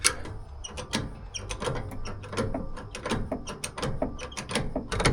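A cab-tilt piston is pushed down on a 1978 Kenworth K100 cabover truck, giving a close run of sharp metallic clicks and ratcheting clunks over a low mechanical rumble, with no talking.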